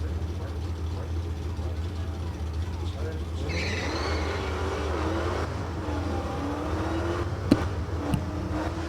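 A Dodge Hellcat at a drag strip roars with a steady, heavy engine drone and a rising pitch sweep partway through, while a commentator talks over the sound.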